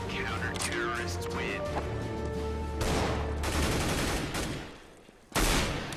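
Gunfire from a firefight in a hallway in Counter-Strike: Global Offensive, with loud bursts and rapid shots amid game sounds and music, cutting out briefly before another sharp burst near the end.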